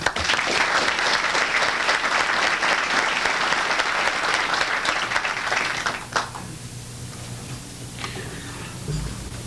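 A lecture audience applauds to welcome two speakers, with dense clapping that runs strong for about six seconds, then thins out to scattered claps.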